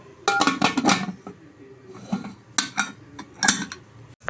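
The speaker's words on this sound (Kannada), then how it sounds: "ಈಗ ಲಿಡ್ ಕ್ಲೋಸ್ ಮಾಡ್ಕೊಳ್ತೀನಿ." Pressure cooker lid being fitted and closed over jackfruit seed sambar, a run of metallic clanks and clinks, some sharp and close, scattered over a few seconds with a faint high whine in the background.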